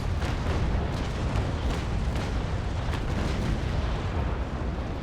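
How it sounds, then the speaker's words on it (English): Sailing warship firing a broadside in Naval Action, a continuous heavy roar of cannon blasts with rapid irregular booms layered over a rumbling low-end wash, loud throughout. "I'm waiting until she comes a little bit closer, reduce the battle sails and fire"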